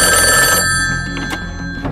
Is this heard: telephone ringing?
yes